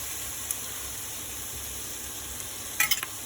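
Carrots frying in a pan hiss with a steady, even sizzle, and a few clinks of a utensil stirring them come near the end.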